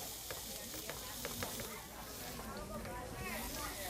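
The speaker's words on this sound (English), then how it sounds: "we're gonna saute them until the onions are translucent" Onions sautéing in olive oil give a steady close-up sizzle and crackle, with occasional stirring scrapes and a voice talking over the frying.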